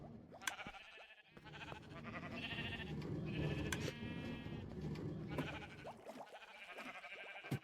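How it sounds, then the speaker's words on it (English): Sheep in the EvoTech modpack game bleat in several loud, wavering calls that repeat across the clip, nearby and with no talk. "There's a sheared sheep with no wool"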